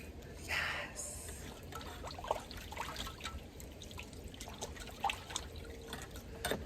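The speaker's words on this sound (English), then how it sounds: "I always wash your fish in salt water" Crappie fish being rinsed in salt water outdoors in the cold, with soft splashing, dripping and trickling close by under a steady background hiss, a few brief sharper splashes standing out.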